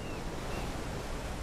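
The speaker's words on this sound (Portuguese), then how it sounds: "Basta que uma onda atinja a orla" Ocean waves wash onto a flat shoreline on the African coast in a steady, loud, continuous roar of surf, with no voices over it.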